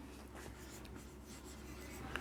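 Faint, close scratching of writing on a board, quiet strokes over a steady room hum, with no talking.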